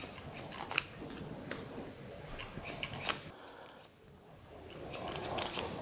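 Barber's scissors snip through medium-length grown-out hair during a haircut, giving quick, crisp clicks in irregular bursts up close, with a brief pause before the cutting resumes.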